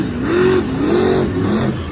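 The Monster Energy monster truck revs its engine in a muddy Monster Jam arena show in Jacksonville, Florida, a loud rising and falling throttle in quick repeated bursts close by.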